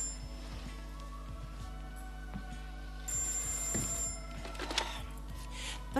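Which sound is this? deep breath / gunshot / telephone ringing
telephone ringing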